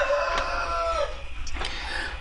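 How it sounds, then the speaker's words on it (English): A rooster crows right next to a window, a loud drawn-out call lasting about a second, followed by fainter clucks and bird noise from hens kept nearby. "cock is also trying to teach us networking, competing with me"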